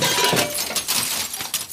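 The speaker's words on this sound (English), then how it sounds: "You have smashed my orrery." Someone smashes an orrery, a mechanical solar system model, producing a loud, close crash of shattering glass and metal with scattered clinking fragments throughout the short burst.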